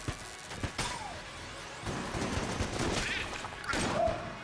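Rapid bursts of Hegemony Carbine fire in the Enter the Gungeon video game, with dense clattering shots and game effects running throughout.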